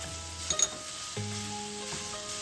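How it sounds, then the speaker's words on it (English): Ground pork is stir-fried in hot oil in a pan, giving a steady close sizzle, with a couple of sharp spatula scrapes and clatters against the pan and a tonal hum underneath. "Heat some oil in a pan and stir fry the ground pork until most of the moisture evaporates."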